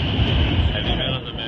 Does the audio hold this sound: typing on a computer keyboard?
no